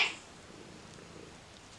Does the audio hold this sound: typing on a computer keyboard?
no